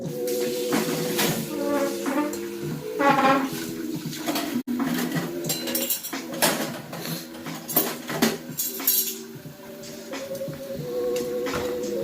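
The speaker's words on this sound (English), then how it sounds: "Dishes." Dishes and cutlery clink and clatter close by in a home kitchen, with irregular bursts of ringing metal and ceramic knocks continuing steadily and loudly under a faint background hiss.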